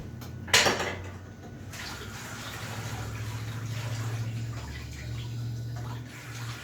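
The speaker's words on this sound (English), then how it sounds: "why are you washing your hands if you're just gonna get them covered in dough again?" Water runs from a kitchen tap as hands are rinsed during bread baking, a steady close splash with a brief louder gush near the start, continuing alone throughout.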